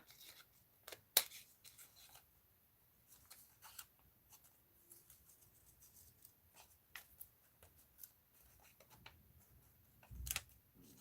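Scissors snip through paper while cutting out images for a mixed-media art journal collage, giving quiet, sparse clicks and rustles with a couple of sharper snips, close and faint with no talking.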